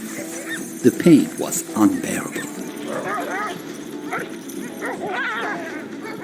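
Sled dogs give a few quick, near yips and barks early on, then go quiet while a person talks over a faint outdoor background.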